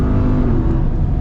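A 2021 Ram TRX truck launches at full throttle under launch control, its engine giving a loud, steady, deep roar with no pause.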